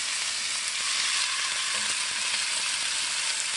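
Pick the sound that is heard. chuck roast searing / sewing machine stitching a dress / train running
chuck roast searing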